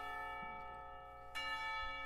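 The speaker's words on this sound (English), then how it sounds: "tower bells ring, signaling the end of the period" Clock tower bells in the visual novel Katawa Shoujo, a sustained, ringing bell tone that hangs steadily, then a fresh strike partway through swells the chime again.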